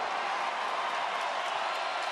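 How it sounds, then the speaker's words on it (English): A Las Vegas crowd at a UFC event fills the arena with a steady, broad wash of applause and cheering as two fighters reach the final bell, sustained and even throughout with no distinct voices standing out. "An appreciative Vegas crowd here as Andre Sukumtat and Sean O'Malley go the distance."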